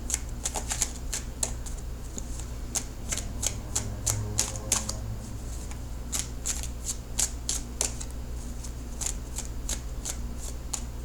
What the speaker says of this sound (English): I'm cutting the cards.